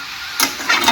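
Spices being stirred in a hot cooking pan after chillies go in, giving a steady low sizzle with two or three brief scraping, rustling bursts of the spoon moving through the mixture, close and fairly loud, no talk.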